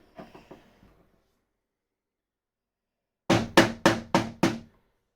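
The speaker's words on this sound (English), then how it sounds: "I'll bash it out gently." A part is knocked out of a scratch-built R2-D2 body: a few soft taps, a pause of silence, then five sharp, loud, evenly spaced bangs in quick succession.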